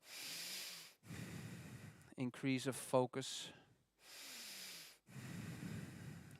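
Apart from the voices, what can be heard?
slow deliberate breathing during a breathing exercise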